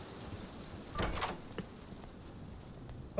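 Door in the horror video game Doors opening with a short creaking slide, faint against a quiet background, followed by a small thud near the end.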